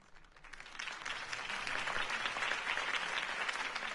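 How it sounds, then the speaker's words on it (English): Applause from a crowd in a Batman video game swells up quickly and holds as dense, steady clapping. "could have heard that applause"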